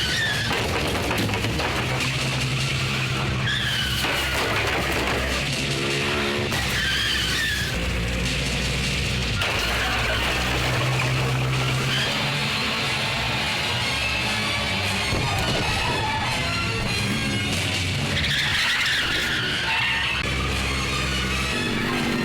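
A car skids and squeals through a chase scene in a Hindi-dubbed action movie, heard inside a loud, dense soundtrack of engine roar, music and effects that runs the whole time.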